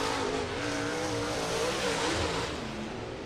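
Sprint cars race on a dirt oval, a dense, loud wall of engine roar from several cars running down the back stretch into turns 3 and 4, with no break in the noise.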